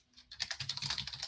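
Rapid keystrokes clatter on a computer keyboard in a fast, irregular burst of close, crisp clicks after a brief quiet start, with no one speaking.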